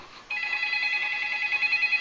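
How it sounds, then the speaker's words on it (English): A telephone rings with a steady electronic trill that starts abruptly after a quiet moment and continues loud and close to the end. "Is that a phone ringing?"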